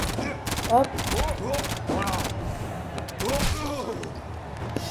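Rapid bursts of shooting at enemies in the video game Hollow Knight, with all charms equipped, crackle in quick clusters, and someone briefly speaks over the action.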